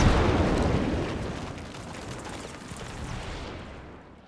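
Dense volley of massed gunfire from a WW1 battle in the strategy game Between Empires, a loud continuous crackling roar that is strongest at the start and slowly fades, with no talking over it.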